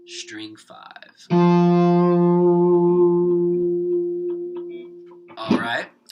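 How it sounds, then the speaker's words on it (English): Single electric guitar note, an F on the 5th string at the 8th fret, with effects and echo, is struck once and held for about four seconds, with brief talk before and after. "we're going to play an F on string 5, but on fret 8"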